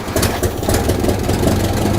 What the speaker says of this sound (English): It's gonna idle.